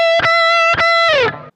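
Two short, punchy strikes of a distorted electric guitar note at the 12th fret are followed by a third that is held and bent downward with a wobble of vibrato, loud and close with nothing else playing.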